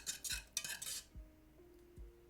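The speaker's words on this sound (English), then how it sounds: "Stir it one more time." Utensil clinks and scrapes against a pot as a secret sauce is stirred, a few distinct metallic knocks spaced about a second apart, fairly quiet and with no talking.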